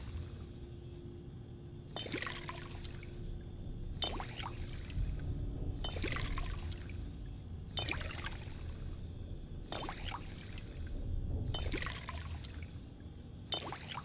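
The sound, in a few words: pouring water to fill bottles in Fallout 4 video game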